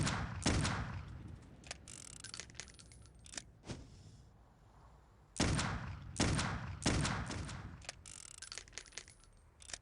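Gunfire from the video game Clive Barker's Undying: sharp, loud bursts of shots in irregular clusters, some single cracks and some rapid volleys, with short quieter gaps between them.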